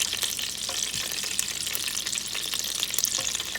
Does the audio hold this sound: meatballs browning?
yes